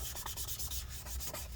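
A cloth soaked with isopropyl alcohol rubs sticky adhesive residue off the inside of a mid-2014 13-inch Retina MacBook Pro A1502 during a battery replacement, making steady close-up scrubbing strokes in a quick repeating rhythm with no talking.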